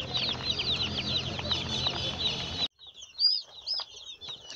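Newly delivered COP 500 SPC broiler chicks chirp in a dense, high-pitched chorus inside a poultry brooding house, with a busy, noisy bed under them that suddenly cuts away to leave only scattered peeps.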